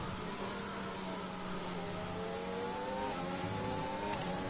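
Formula 1 race cars in a video game at Bahrain, running side by side into a corner, with steady high engine whine and rising revs from more than one car, sustained and moderately loud.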